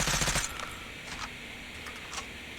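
Type 25 rifle fire in Call of Duty Mobile, a quick rapid burst at the start followed by a few faint scattered shots and clicks, moderately loud.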